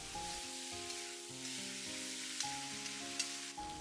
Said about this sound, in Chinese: 继续开大火翻炒均匀